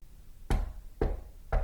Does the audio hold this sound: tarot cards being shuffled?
no